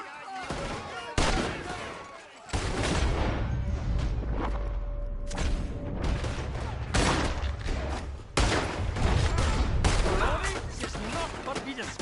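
Rapid bursts of gunfire crack and boom through a Red Dead Redemption 2 shootout, loud and close, in several dense volleys with brief gaps, layered with shouting voices and game effects.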